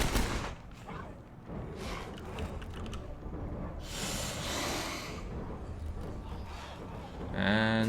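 Gunfire aimed at plague hearts in State of Decay 2, repeated sharp shots and mechanical clatter over a dense, noisy background, ending in a loud burst.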